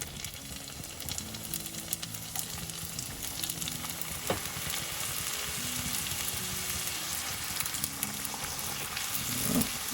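Smoked brisket egg rolls frying in hot oil give a loud, steady, dense sizzle that crackles continuously throughout, with a few sharper pops and a low background hum.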